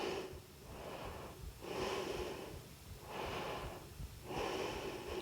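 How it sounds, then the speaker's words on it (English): Slow, deep breaths during a yoga class, each one a soft broadband rush rising and falling at a steady pace, close and fairly quiet, with no speech. "Inhale deeply."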